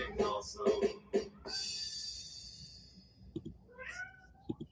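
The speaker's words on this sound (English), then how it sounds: "That's my little baby kitty." A pet cat meows in a home, a few short cries close by, with some human voice and a sustained hiss partway through.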